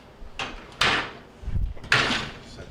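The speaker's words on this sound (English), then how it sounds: "we can remove this basket here. It's just going to lift straight up and out." A plastic door basket lifted out of a Maytag refrigerator door, giving a few short knocks and rattling scrapes close by with brief pauses between them.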